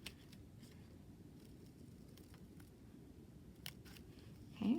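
Scissors snip slowly through paper while a marigold flower is cut out, giving faint, sparse clicks over a quiet room hum, with a slightly louder rustle at the very end.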